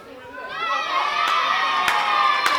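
An indoor wrestling crowd at a Slammasters Wrestling show swells into loud, sustained cheering and shouting, with a few sharp claps or bangs cutting through the roar.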